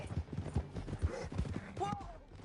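Horses galloping through a canyon in a western scene, a quick steady clip-clop of hooves with a brief whinny, while voices call out over the ride.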